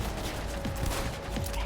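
Gunfire in the video game Cyberpunk 2077, a dense, continuous stream of faint shots and mechanical clatter under a steady game soundscape.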